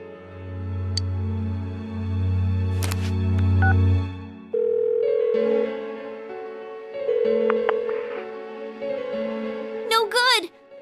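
Phone call tone from the video game Persona 4 Golden, a steady ringback drone with music and electronic chimes around it, followed by a brief synthetic warble near the end.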